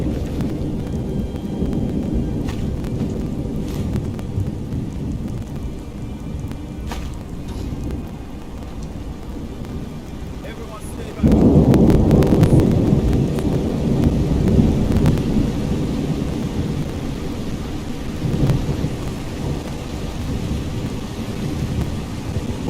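Thunder and rain in Markarth, a stone city in the video game Skyrim, with a steady rain hiss and low rumbling that swells into a louder, nearby thunder roll about halfway through and keeps grumbling to the end.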